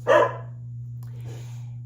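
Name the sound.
dog barking at the mailman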